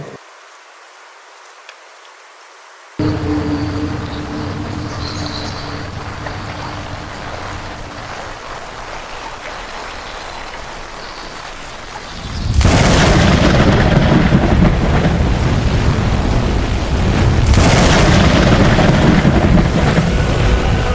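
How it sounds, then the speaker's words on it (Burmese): Heavy thunderstorm rain as a sound effect, starting as a softer steady patter and then swelling into a loud roaring downpour with gusting surges, no voices present. "ကောင်းကင်ထက်၌ မိုးသားများမောင်မဲလာကလက်စီမိုးကြိုးများဖြင့်မိုးများဒီထန်စွာရွာချလာပါတော့တယ်"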